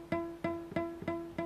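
Guitar notes fretted too far behind the fret, plucked five times in an even rhythm, each with a short buzzy attack and a quickly fading ring, quiet and alone.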